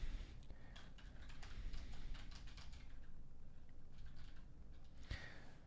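Rapid typing on a computer keyboard, a steady patter of light clicks up close, fairly quiet over a low background rumble, with no one talking.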